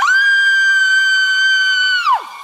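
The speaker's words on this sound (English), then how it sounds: "Suddenly, she heard a loud scream in her ear." A loud, sustained high-pitched scream rings out alone for about two seconds, then drops sharply in pitch and cuts off.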